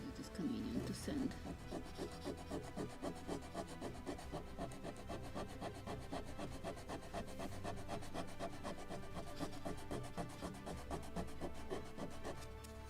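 A wooden deck plank on a Model Shipways kit of the 1776 gunboat Philadelphia gets sanded by hand, a rapid rhythmic back-and-forth rasping that runs continuously at close range and fairly quiet.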